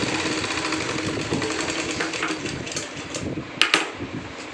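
A sewing machine stitches a second line of reinforcing seam on a child's school shorts, running in a steady, continuous mechanical whir close by, with a brief sharper clatter near the end.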